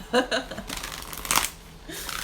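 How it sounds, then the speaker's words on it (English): Tarot cards shuffled by hand in quick riffling bursts, close and crisp, with a brief sharp flutter near the middle and soft voices in the background. "keep shuffling for Tosh, shuffle for a moment"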